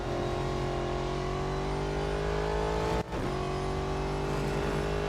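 Car engine in the Real Racing 3 video game, a loud continuous drone that climbs steadily in pitch under acceleration, with a brief gear-shift dip before the revs pick up again, no talking.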